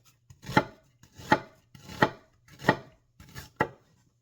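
A knife chops vertically through an onion on a cutting board, the layers separating: five crisp, evenly spaced chops about two-thirds of a second apart, close and clear with no talking.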